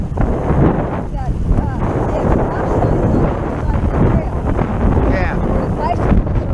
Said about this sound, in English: I can't hear you because of the wind